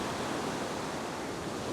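Ocean surf breaking on a beach makes a continuous, dense, loud wash of rushing water and spray, steady throughout with no voices.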